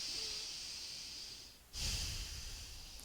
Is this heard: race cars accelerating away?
no